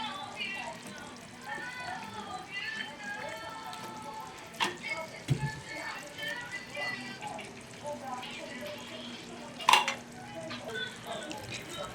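Spaghetti goes into a sizzling pan and gets stirred, a continuous frying hiss with scraping and occasional clinks of a utensil against the pan, while a person talks over it.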